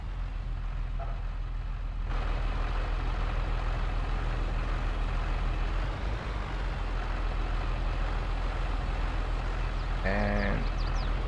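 A harvester in a farming video game drones with a loud, steady low engine rumble throughout, and a short series of rising beeps sounds near the end.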